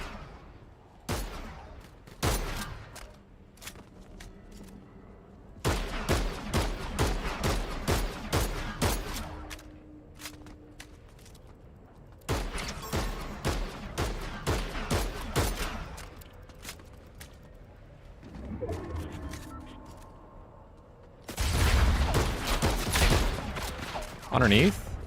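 Bursts of video game gunfire crack out in several dense volleys, loud and close, separated by short lulls, with a voice talking between the shots.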